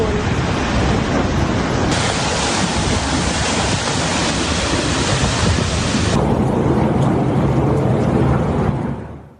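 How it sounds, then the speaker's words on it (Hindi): Floodwater rushes through streets in Spain, sweeping cars along in a loud, continuous roaring torrent that stays dense and unbroken before cutting off at the end. "स्पेन में जरा गाड़ियों का हाल देखिए, पानी अपने साथ बहा कर ले गया है दर्जनों गाड़ियां"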